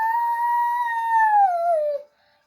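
A single wolf howl used as a sound effect in a story reading, loud and close, holding a long tone that slowly bends downward before cutting off into silence.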